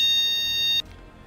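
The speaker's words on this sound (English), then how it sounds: "Fire alarm test." A building fire alarm test sounds as a loud steady electronic beep tone with high harmonics, cutting off abruptly partway through, followed by quiet room noise.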